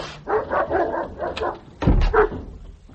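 A hound barks indoors, a run of muffled, rapid barks and yaps followed by a louder, deeper bark close by, with no talk over it.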